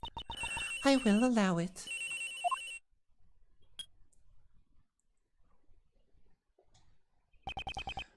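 Phone ringing in the Ace Attorney Investigations video game, a bright electronic ringtone sounding in a short burst, stopping, then returning near the end, with a line of speech in between.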